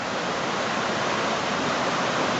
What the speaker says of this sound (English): This is coming off out of a culvert underneath the road